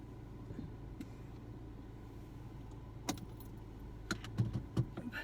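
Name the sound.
car being started with remote start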